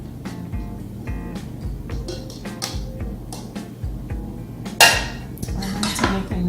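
Chicken pieces being placed into a food container for honey glazed baked chicken, with clinks and knocks of containers and utensils on a kitchen counter and a sharp clatter near the end.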